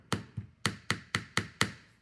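Light hammer taps on wire-wrapped Bohemian earrings, seven sharp metallic knocks at a steady moderate pace, close and clear with short ringing decay.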